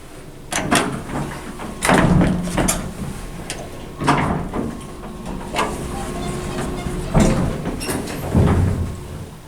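A hydraulic elevator's sliding door at 930 Florin Road in Sacramento jerks open and shut repeatedly, giving a series of close, rattling thumps and scrapes at irregular intervals over a low hum, with no talking.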